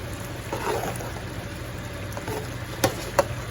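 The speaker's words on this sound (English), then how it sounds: "Look at that taco meat. That taco meat cooking." Taco meat frying in a pan gives a steady close sizzle and crackle, with a couple of sharp clinks near the end.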